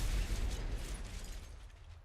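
A tank is destroyed in the War Thunder combat video game, a loud low explosion boom up front that rumbles and decays over about two seconds.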